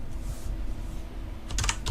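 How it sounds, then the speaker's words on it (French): Keys tapped on a computer keyboard's numeric keypad while working in Maya 2018, with a quick cluster of sharp clicks near the end over a steady room hum. "J'utilise le clavier, le pad numérique sur mon clavier, avec l'Enter de mon pad numérique."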